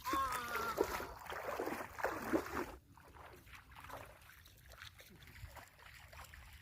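Feet wading through the shallow Dudhi river, water splashing and sloshing close by, the splashes fairly loud at first and then quieter, steady trickling for the rest.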